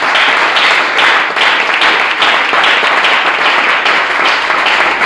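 A church congregation applauds and cheers in praise, a dense, steady wash of clapping from many hands that fills the room at full volume for the whole stretch, with scattered voices mixed in.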